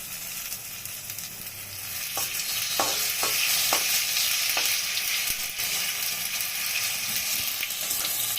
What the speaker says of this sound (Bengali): এখন কালো জিরা দেব।